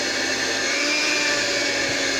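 An electric mixer whirs steadily through pineapple upside-down cake batter, a dense, continuous motor drone that stays loud and close from start to finish with no voices.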